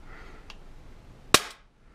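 A single sharp gunshot cracks over a chronograph, one loud brief report after a faint earlier click, then quiet.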